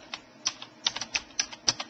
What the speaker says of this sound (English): using the keyboard you can then give that folder a name